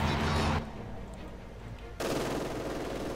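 Rapid MG42 machine gun fire in the World War II strategy game Company of Heroes 2, a dense tearing burst, a pause of quieter battlefield ambience, then another sustained burst.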